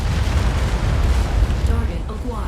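A missile explosion in the mech combat video game Mechwarrior 5 rumbles as a dense, loud, low roar of blasts that lasts throughout, with some talking underneath.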